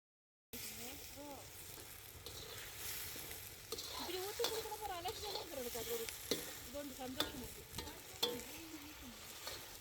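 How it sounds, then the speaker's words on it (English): Beans are stirred and scraped in a pan of simmering coconut milk, with a continuous soft sizzle broken by irregular clicks and scrapes of the spoon, heard close and steady after a short silent start. "Continue mixing until the coconut milk has evaporated and the oil is released."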